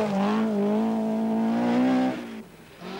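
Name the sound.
Blomqvist's Talbot Sunbeam rally car on Scottish rally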